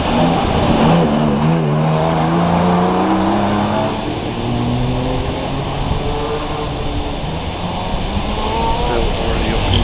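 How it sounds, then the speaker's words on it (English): Porsche Cayman race car accelerating up the course at Harewood hillclimb during a British Championship event, engine harmonics rising and shifting through gears, fairly loud and steady, with commentary speech running over it. "a little bit of a hesitation there for Phil James as he left the line in the Porsche Cayman"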